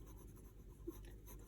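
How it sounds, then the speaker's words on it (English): A pencil softly shades on paper with a faint, steady rasp, close by and very quiet. "we want to start using our pencil to shade in"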